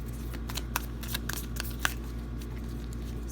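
Tarot cards are shuffled by hand, a steady run of soft riffling flicks and light snaps, close and continuous over a low background hum.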